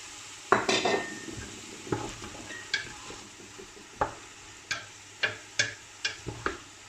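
Vegetables being stirred in a pot for Moroccan vegetable couscous, with a spoon scraping and tapping the pot in a dozen short, irregular clinks over a soft sizzle.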